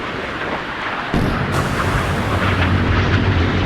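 Naval gunfire and missile explosions from the Sea Power game, with a Slava cruiser under attack by an Arleigh Burke destroyer, form a loud, dense rumbling roar that jumps sharply in strength about a second in and then keeps booming.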